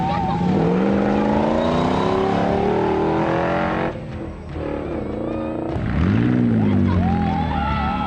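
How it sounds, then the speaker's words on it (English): A full Dakar Rally spec Land Rover rally car at a rally in cattle country, its engine revving loudly in rising and falling sweeps, dipping briefly before surging again as it passes close by. "A rare sight indeed, a full Dakar Rally spec Land Rover"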